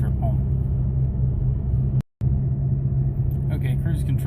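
Interior drone of a Dodge Challenger SXT cruising at about 55 mph: steady low engine and road rumble, loud and constant, broken by a brief cut of silence midway.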